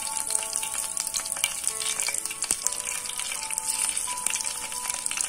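A slit green chili, seeds removed, frying in hot coconut oil gives a steady, bright crackling sizzle with dense popping spatter throughout, close and continuous with no voices.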